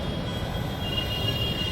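Delhi metro train at a station, a steady close rumble with a faint high whine running through the brief stretch.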